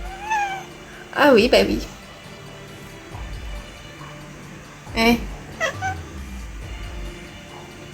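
A kitten meows in two bursts of rising, wavering cries, close and fairly loud, while a person speaks over and between them.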